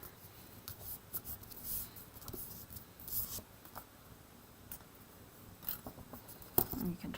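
Scissors snip through cardstock while a card is assembled from a builder die set, a quiet run of short, crisp cuts close by with soft scratchy paper handling between them and no talking.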